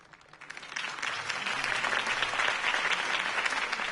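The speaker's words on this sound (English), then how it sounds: "If only Mr. Wayne, my campaign's largest backer, could have heard that applause" Applause from a video-game crowd after a campaign speech, a dense patter of many clapping hands that builds quickly from a few claps and holds steady for several seconds.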